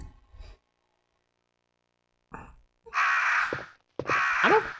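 Crows in a Resident Evil puzzle room give a short low sound, then after a pause a couple of loud, harsh, drawn-out caws close by, with no talk.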